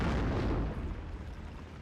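Grenade blasts in a World War II strategy battle in the Normandy 44 game boom and roll out, a heavy burst at the start fading into a low rumbling tail.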